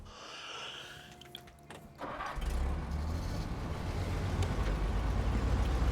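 A Western Star truck in the video game Snowrunner starts up with a few mechanical clicks, then its engine settles into a loud, steady diesel rumble that builds and holds.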